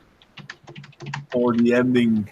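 Quick clicking keystrokes on a computer keyboard, light and irregular, followed by a person talking over them.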